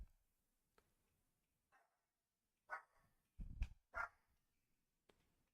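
A house dog barks at someone at the front door, with a few faint yips and then a loud burst of three or four sharp barks close by. Long quiet gaps surround the barking.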